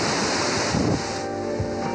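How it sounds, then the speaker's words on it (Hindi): Cold glacier water rushing at the Kharmang waterfall near Skardu, a loud, steady broadband roar with wind buffeting the microphone, continuous and with no voices. "लेकिन हाँ आप इसके किनारे घंटों तक पानी की धुन सुन सकते हैं।"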